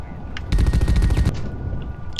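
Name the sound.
gunfire in video game The Red Solstice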